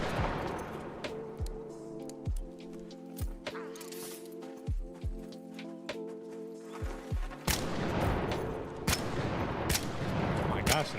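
Gunfire in a video game: repeated sharp booming shots spaced across the clip, then denser rapid bursts toward the end, loud and close against a steady game background.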